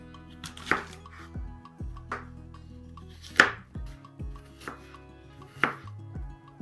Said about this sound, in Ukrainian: Для начинки я візьму яблука, я їх буду нарізати